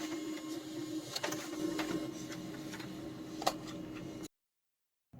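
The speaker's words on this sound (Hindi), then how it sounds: "मैं यहाँ पर रिपोर्ट प्रिंट करता हूँ" A Pantum M6500 laser printer prints an info report page with a steady mechanical whir and faint ticks and clicks, then stops abruptly into silence.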